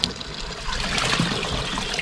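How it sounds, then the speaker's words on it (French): A mini washing machine drains soapy water during its spin cycle, a steady rushing, trickling flow of liquid that holds at a constant moderate level throughout. "on va passer à l'essorage après le lavage"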